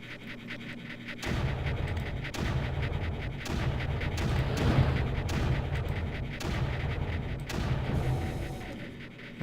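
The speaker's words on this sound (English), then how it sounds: "Let's bomb this out." Bombing in the Creeper World video game sets off a rapid string of heavy booming blasts, dense and continuous, which start abruptly after a quiet opening and keep pounding with loud peaks.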